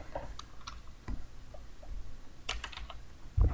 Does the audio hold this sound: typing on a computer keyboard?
yes